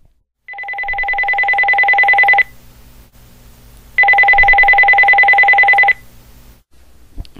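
Telephone ringback tone during an outgoing call: two long, loud electronic rings about two seconds each, separated by a short pause, with faint background hum.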